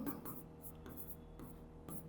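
Marker or chalk strokes scrape across a board in several short bursts while a man explains a modulus math problem over them.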